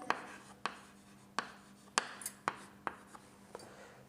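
A pen writes on paper in short, rapid strokes, with about eight sharp scratches spaced roughly half a second apart, close and quiet with no talking.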